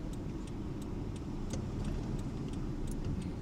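A car accelerating gently during a Florida driving test gives off a steady low engine hum and road rumble, constant and close, with faint ticking above it and no voices.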